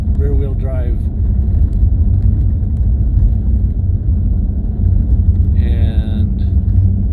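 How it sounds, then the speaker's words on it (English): A 2018 Cadillac CTS-V with a supercharged V8 and rear-wheel drive rumbles steadily as it climbs a snow-packed dirt road, a loud continuous engine drone from inside the car, with brief bursts of voice over it. "This is, of course, a V8 supercharged rear-wheel drive"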